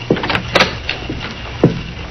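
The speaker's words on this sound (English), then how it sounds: "The same key unlocked the door to Dr. Spencer's offices" A skeleton key rattles in the lock of an office door, followed by a short sequence of close clunks and scrapes as the door is unlocked and opened, with no speech.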